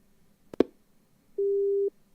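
A telephone handset being hung up: two sharp clicks, then a single steady electronic beep tone lasting about half a second, close and clean against near silence.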